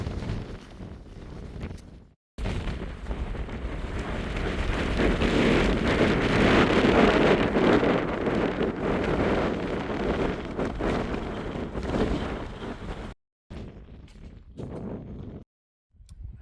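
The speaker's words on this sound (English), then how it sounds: "Wow, that was quite windy up there." Strong wind buffeting the microphone on the open summit of Mount Monadnock, a loud, continuous roaring rush that swells and fades, broken by a few brief drops to quiet.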